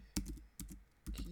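Several sharp, close keystrokes tap out on a computer keyboard in small uneven bursts while a command is entered, with no voices.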